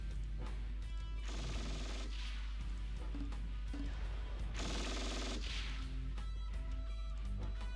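Gunfire in the wartime strategy game Close Combat: Cross of Iron, with two dense bursts of rattling automatic fire over a steady low rumble and scattered mechanical clatter, with no voices.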